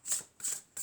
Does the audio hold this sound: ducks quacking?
no